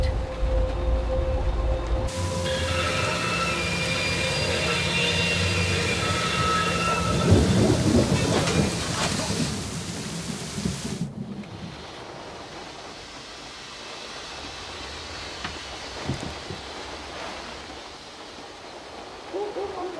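Thunder and heavy rain from a storm in the Syberia: The World Before game, with a loud rumbling roll over steady downpour that fades to softer rain and a distant crackle near the end.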